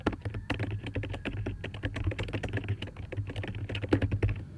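Fast, continuous typing on a computer keyboard while writing C++ code, with dense clattering keystrokes close up and no pauses.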